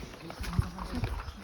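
Hooves of a tall, well-trained horse clip-clop in a steady rhythm while it is ridden through the Gurez Valley, Kashmir, close and moderately loud over low ambient noise.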